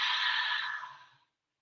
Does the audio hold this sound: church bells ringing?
no